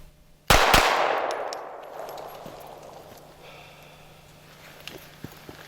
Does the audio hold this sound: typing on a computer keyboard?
no